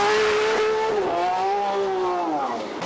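A Ferrari race car roars past at speed, its high engine note loud and close, rising and sliding in pitch as it accelerates and shifts through a brief pass.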